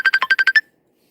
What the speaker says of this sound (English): this thing is still ringing on my other phone